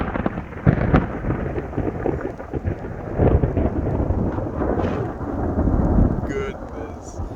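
Thunder rolling during a storm, a long, loud, rumbling roar with crackling bursts and steady rain noise underneath, continuous for several seconds; no words spoken.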